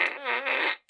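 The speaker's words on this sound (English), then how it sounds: "Here, where's the fart gun?" Toy fart gun fired once, a loud, wet, buzzing blurt lasting most of a second, wavering in pitch before cutting off, followed by a brief faint squeak.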